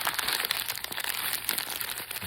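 Close, steady crackle and rustle of newspaper being scrunched into a ball for a paper mache rock, continuous crinkling with small bursts and no speech.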